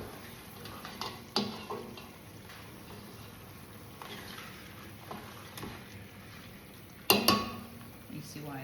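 Tomato sauce with meatballs simmers in a pot with a soft bubbling sizzle, while a utensil stirs and breaks up the meat, giving occasional sharp clinks and scrapes against the pan, close up.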